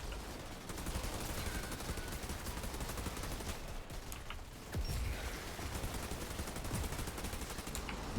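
Steady light machine gun fire rattles on in the Outriders demo, a continuous dense stream of shots at moderate distance with a brief lull near the middle, layered over busy combat noise.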